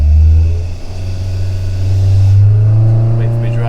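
A V8 Husky engine with an R17 cam revs hard on an engine dyno, a loud, steady low drone that climbs in pitch over a few seconds, with a voice talking over it.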